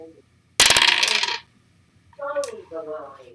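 Dice tumble in a video game in one bright, rattling clatter lasting under a second, followed by a soft voice talking.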